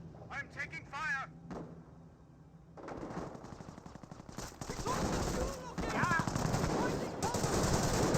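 Machine gun fire rattles in rapid bursts during a Company of Heroes 1 battle between British and Wehrmacht forces, joined by other gunfire and explosions, growing louder and denser over time while a commentator talks over it.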